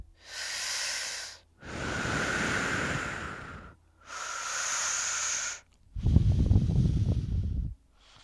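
Slow, deep breathing during a chair yoga session, with four long airy breaths heard up close. Three are soft hissing breaths, and the last exhale is rougher and louder. No talking.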